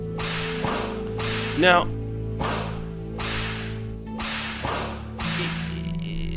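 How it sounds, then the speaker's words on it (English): Sharp whip-like smacks ring out in a fight, about eight loud cracks spaced roughly every half second to a second, each followed by a short decay, with a brief spoken word in between. "Keep the ass whooping sounds coming, right?"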